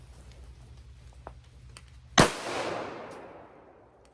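A single sharp pistol shot from a Remington 1911 R1S rings out at close range, its blast decaying into a long echoing tail over a faint, steady background hum.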